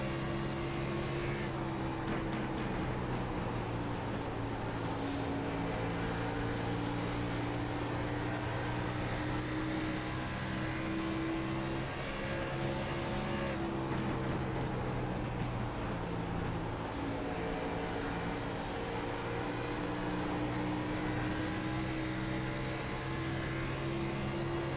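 Onboard engine of an Xfinity-style stock car in sim racing at Dover, a steady droning roar with gentle pitch swells and a couple of brief lifts, mid-level and continuous throughout.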